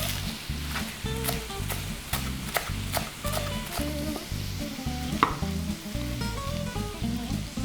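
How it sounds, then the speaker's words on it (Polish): Chanterelle mushrooms fry in a pan over medium heat, a steady close sizzle with regular scraping and stirring knocks and occasional clinks, no speech. "Teraz czas na grzyby i całość smażycie na średnim ogniu przez kilka minut, aż kurki zaczną się pięknie rumienić."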